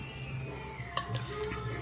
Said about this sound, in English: Probably need a spoon to get the gravy out of the bottom